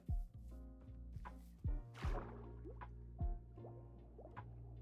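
A player moves through water in Minecraft: soft splashing, dripping plops and a few heavier splashy bursts at close range, spaced irregularly over a quiet background.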